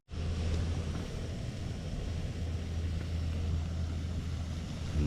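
A boat engine runs with a steady low rumble across a wintry fishing lake, coming in as the boat crosses to break up the ice, moderately distant under a broad wash of noise.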